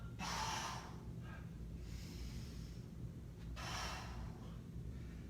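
Heavy exhaled breaths during a workout, close and breathy, coming in three bursts spaced about every one and a half seconds with quieter noise between them.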